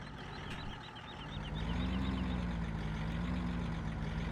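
A Land Rover reverses to hook up a trailer in Farming Simulator 17, its steady engine drone rising partway through, with a rapid series of high reversing beeps repeating near and loud throughout, no talk.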